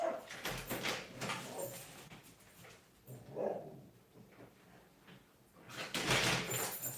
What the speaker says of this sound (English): My dog's going bananas.